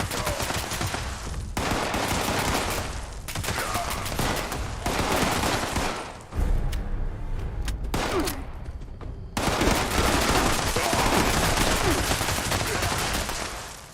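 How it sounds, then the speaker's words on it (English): Sustained automatic gunfire pours at super mutants in Fallout 76, long dense bursts of rapid shots broken by brief pauses, loud and continuous. "Just keep shooting until they're all dead"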